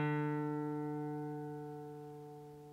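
A single plucked guitar D string rings out alone as its tuning peg is loosened, sustaining and slowly fading over a few seconds as its pitch bends gradually lower.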